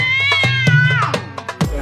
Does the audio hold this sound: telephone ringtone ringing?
no